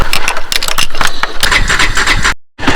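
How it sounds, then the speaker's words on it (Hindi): A motorcycle engine cranks into life and settles into a steady idle, its rough broadband running sound close and loud before cutting out briefly near the end and resuming. "यहाँ से हमारी बाइक जो है ना वो स्टार्ट हो गई है"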